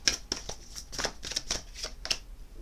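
Tarot cards being shuffled by hand in quick riffling bursts, close and crisp, about ten rapid flicks over a few seconds with no talking.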